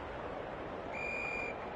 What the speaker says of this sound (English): The umpire whistles for a ball up.